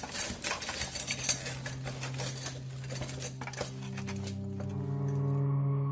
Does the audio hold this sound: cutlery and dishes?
yes